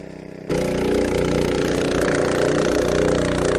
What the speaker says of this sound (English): Both pumps are pumping evenly and equally, filling the AquaDam.